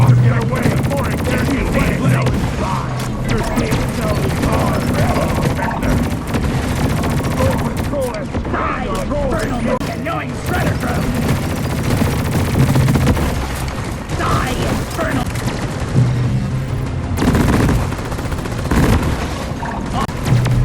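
Lok-1 smart rifle firing at patrol bots in Deep Rock Galactic: a constant, loud stream of rapid gunfire and impacts layered with game noise and booms, with no pause across the whole stretch.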